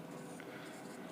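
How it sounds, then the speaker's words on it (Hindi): A pen scratches steadily across paper during a ninth-class math lesson, a faint, close, continuous writing sound. "यहां पे लिख देता हूं मैं"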